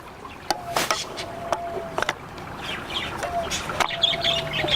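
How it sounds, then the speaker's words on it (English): A plastic pond pump part snaps onto its two small posts, giving a few sharp clicks at irregular intervals over a steady low background hum. "You can hear how it clicks into the 2 little posts right here. That tells you that it's seated."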